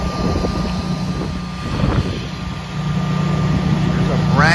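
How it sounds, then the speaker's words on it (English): Newly installed home standby generator running after kicking in, a steady low engine drone with a constant hum, heard outdoors in windy winter-storm conditions. "He has a generator that he just put in."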